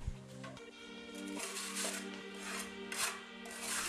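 Hand tampers made from timber offcuts screwed onto pickaxe handles compact a damp earthen floor, giving a steady run of scraping, rubbing thuds close up, with a low droning tone beneath.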